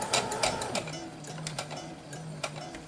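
Sewing machine stitching quilt fabric, a steady mechanical whir with rapid ticking needle strokes running continuously, close by.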